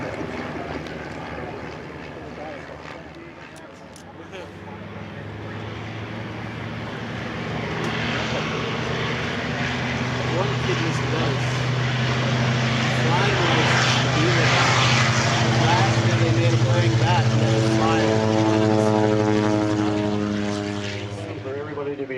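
An L-4 propeller plane passing in review at a World War II weekend, its engine droning louder as it nears and then fading as it moves off, with a voice talking over it.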